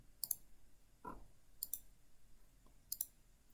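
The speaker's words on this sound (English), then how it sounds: "so I'm just clicking them" Three sharp computer mouse clicks at steady intervals, each a quick double tick, as answers on an online quiz are selected in a quiet room; a soft low thump falls between the first two clicks.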